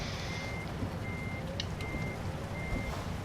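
Truck reversing beeps in the American Truck Simulator video game: a steady, evenly spaced electronic beep repeating over constant engine rumble and cab noise, with no talk.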